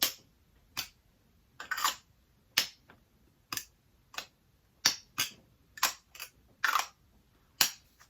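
The cap of an e.l.f. primer clicks repeatedly, a series of sharp, crisp snaps about a dozen times at an irregular pace, close and clear against near silence.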